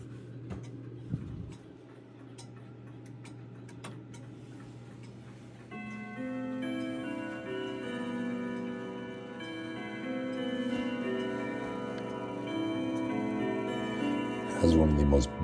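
An Ergos clock with Winchester chime ticks steadily and softly, then its Winchester strike rings out in a sustained, layered melody of bright chime tones that swells over the ticking.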